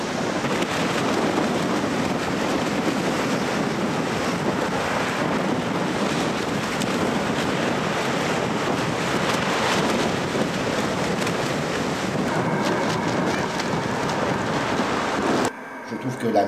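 Sea waves break on a shore in a continuous, loud roar of surf mixed with buffeting wind against the microphone, steady throughout before cutting off abruptly near the end.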